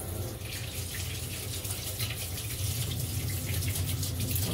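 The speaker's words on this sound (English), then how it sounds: "we just need to get a tea towel, run it under some warm water" Warm tap water runs steadily from a kitchen faucet over a tea towel being soaked for covering proving focaccia dough, a continuous close hiss and splash with no talking.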